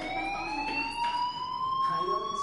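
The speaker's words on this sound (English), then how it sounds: "do you hear that fire alarm?" A fire alarm rings in the Life is Strange video game, a steady electronic tone held throughout at moderate level, with faint indistinct voices underneath.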